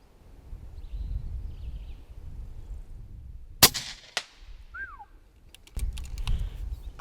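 A single sharp crack from a pre-charged pneumatic air rifle fired while hunting hyrax outdoors, followed by a smaller knock and a bird call, then a few more clicks against low wind rumble.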